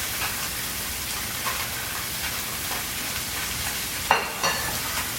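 Redfish fillets seasoned with salt and pepper sizzle in a hot skillet in a restaurant kitchen: a steady, dense frying hiss with a couple of sharper pops near the end, and no voices.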